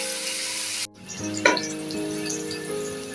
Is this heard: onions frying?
yes